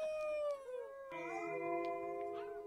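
A human voice imitates a wolf howl, drawing out long wavering, sliding tones that rise and fall, with a second overlapping howl joining midway, close and steady.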